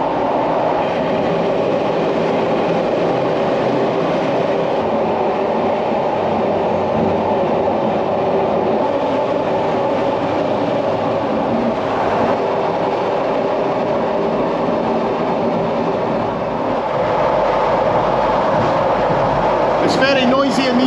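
A Bergensbanen train roars through a tunnel, a loud, constant rumbling drone with rattling wheel noise filling the whole stretch and swelling slightly near the end.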